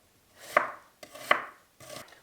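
Three sharp knife chops on garlic for a pasta dish land in an uneven rhythm, crisp and close on a cutting board, with no talking.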